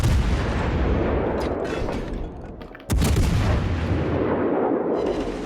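Heavy naval gunfire from World of Warships crashing down around a Tier VI warship, a dense barrage of loud booms and rumbling impacts with a sharp blast near the middle, continuing without talk.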